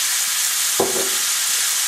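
Kielbasa sausage sizzles in a pan as olive oil goes in, giving a broad steady frying hiss with a brief louder burst of spattering partway through.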